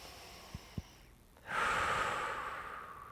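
A person takes a slow, deep belly breath during a hands-on sciatica treatment, with a couple of soft taps first and then a long airy exhale that starts abruptly and tapers off, close and fairly quiet.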